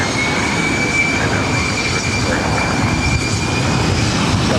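A jet airliner roars steadily on takeoff from runway 24 right at LAX, a loud, continuous broadband engine rumble with a faint high whine running through it.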